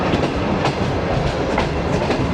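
Shalimar Express train rolling along the rails near Faisalabad, a steady loud rumble of the carriage with rhythmic clickety-clack wheel beats throughout, no voices.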